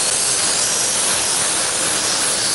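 A pressure cooker vents steam in a loud, steady, unbroken hiss that fills the whole stretch without any pause.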